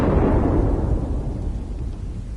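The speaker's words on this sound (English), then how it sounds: "Your life is in danger because a storm is coming." Thunderstorm in the video game Leisure Suit Larry: Wet Dreams Dry Twice, a loud deep rumble of thunder that rolls on and slowly fades, with no voices over it.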